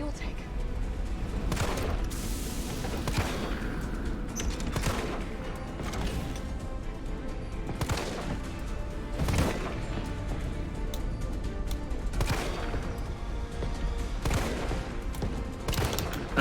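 Gunshots fired at the tank on Nemesis's back in Resident Evil 3, repeated sharp blasts every second or two amid loud game action, with a voice talking over parts of it.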